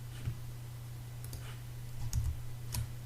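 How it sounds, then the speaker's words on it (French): A computer mouse clicks on a web page, making a few faint, sharp, isolated clicks against a quiet background hum. "Si je clique marqué comme lu"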